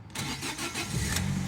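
A 1.4-litre Fiat 500 engine cranks and catches, then settles into a steady, loud idle close by, with no voices over it.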